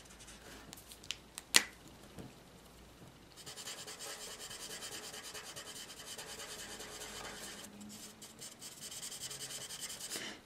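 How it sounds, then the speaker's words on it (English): Soft, steady rubbing of a Copic alcohol marker's chisel nib across paper while blending colour, a few light taps first, then continuous close scratchy strokes for several seconds. "I'm going to straight away blend this colour out because there is quite a strong difference here to this colour"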